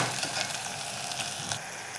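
Chopped tomatoes fry in oil over a low flame, giving a steady, close hiss of sizzling with faint crackles and a slight drop in intensity near the end.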